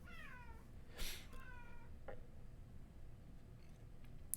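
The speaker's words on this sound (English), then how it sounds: "My cat is upset that she's not in." A pet cat meows several times in short, upward-gliding calls, fairly close, over a low steady background hum with no talking.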